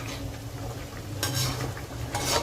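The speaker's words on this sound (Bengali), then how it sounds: "এবার গ্রেভিটা একটু ফুটতে দিচ্ছি।" Gourd kofta curry gravy simmering in a pan, a steady low bubbling and soft sizzle close up, with a couple of brief louder stirring scrapes, no voices.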